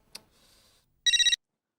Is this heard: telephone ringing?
yes